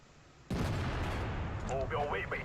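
A tank cannon blast in World of Tanks, fired from a tier 8 WZ-111 premium heavy tank: a sudden loud boom with a long rumbling tail, then a brief higher metallic ringing.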